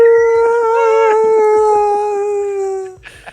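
A voice imitates a whale call with a long, loud, mournful wavering tone that slowly slides downward and fades out, followed by a brief rustle.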